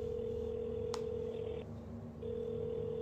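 Telephone tones sound at moderate level over a steady hum, with one short sharp beep and a brief dip in the middle as a phone is dialed to call mom.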